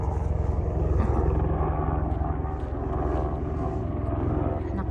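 A helicopter flies above a mountaintop area with buildings, its steady low engine and rotor rumble continuing throughout at moderate volume, with faint voices now and then.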